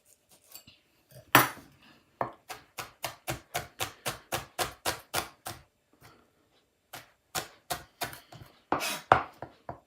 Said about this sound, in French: Hop, on va en couper pour la quantité une deuxième.